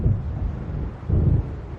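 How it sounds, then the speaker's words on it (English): A low, rolling rumble of thunder from a storm in Alan Wake Remake swells twice over a steady windy wash, deep and heavy with no voices. "It seems there's a storm coming."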